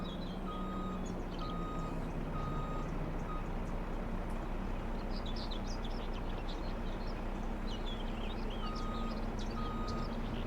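Wheel loader on a farm in Farming Simulator 25 emits steady evenly spaced reversing beeps over a loud constant engine and machinery drone, with faint birdsong and chirps scattered through the background and no talking.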